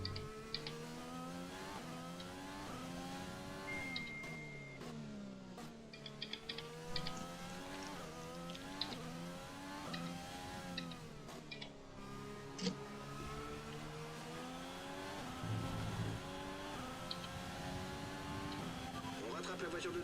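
A race car is driven hard around a track in a racing video game, its engine rising and falling through gear changes in a continuous, wavering whine, with people talking over it.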